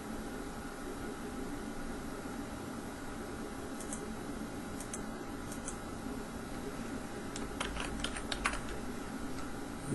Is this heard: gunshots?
no